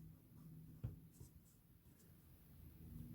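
Pen or pencil writing on paper at close range, a soft steady scratching with one sharper tap near the start, quiet and alone.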